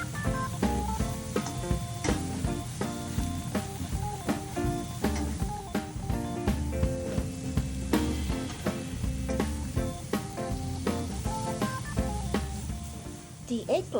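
An eggplant and oyster sauce omelet fries in a pan with a steady, close sizzle and crackle, broken by small scraping and tapping sounds as the eggs are turned, with a voice speaking over it.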